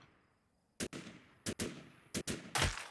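Gunfire in the zombie survival game Outbreak New Dawn: sharp, loud shots in quick pairs at a steady interval, with the last burst heavier and longer, over near silence.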